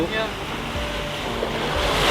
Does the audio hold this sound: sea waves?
yes